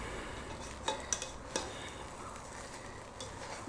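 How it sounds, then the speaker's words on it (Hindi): Steamed paneer rice stirred in a pot with the gas switched off, a few sharp spoon clinks and soft scraping against the metal, close and fairly quiet. "अभी हम इसको थोड़ा सा हिला देंगे"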